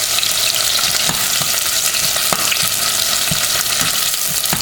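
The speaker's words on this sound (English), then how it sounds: "We are going to fry the onions for a few minutes." Onions frying in oil in a pan, a loud, dense, continuous sizzle with scattered crackles and pops throughout, close up and with no talking.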